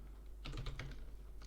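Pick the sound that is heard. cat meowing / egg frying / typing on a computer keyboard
typing on a computer keyboard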